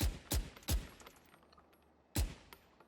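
Phantom rifle in the video game Valorant firing at close range: four sharp, loud shots, three in a quick burst and one more after a short pause, with no talking.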